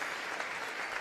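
A crowd applauds the seniors at a high school varsity basketball senior night, steady broadband clapping filling the gym throughout without a break.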